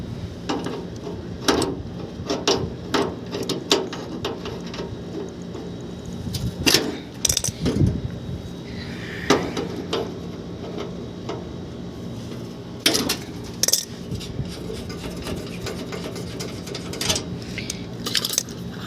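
A pressure gauge is fitted onto the suction line of a split air conditioner, making scattered metallic clinks, clicks and light clattering of fittings and tools at close range, with no voices.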